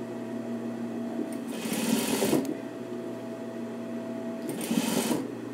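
A sewing machine stitches a short seam on a fur coat in two quick bursts of rapid motor whirring, separated by a steady low hum while the machine sits idle.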